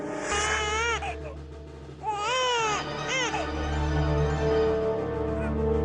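A baby crying in loud, wailing bursts with rising and falling pitch, three main cries over a steady low background hum, close and continuous.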